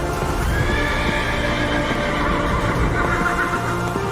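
A warhorse in battle whinnies and snorts loudly over continuous hoofbeats and a dense, busy background, close and sustained throughout.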